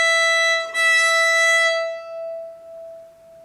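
A fiddle's open E string is bowed in one sustained, steady, bright tone that rings loudly near the microphone, then slowly fades as the bow stops. No one talks.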